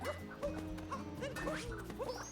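A small video-game dog barks in short yips while digging, several quick high barks over a steady synthesized music bed, fairly quiet and close.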